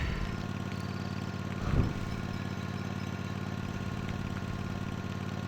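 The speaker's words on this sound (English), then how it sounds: "Oh, you gotta drive the tractor upstream." A tractor engine drives along in the Lego Star Wars video game, a steady mid-pitched idling drone with a brief louder clatter partway through, alone without talk.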